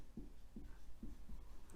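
Chalk or marker writing on a board during a botany lesson, a few soft rhythmic strokes spaced about half a second apart, quiet and close with no talking.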